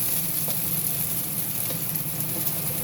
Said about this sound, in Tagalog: lagyan natin ang garlic konting brown para mabango